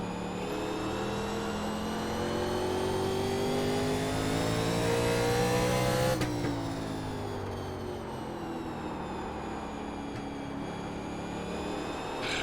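A 1987 NASCAR race car laps Stafford Speedway in the iRacing game, its engine droning steadily at high revs with one downshift and rise midway, loud and alone.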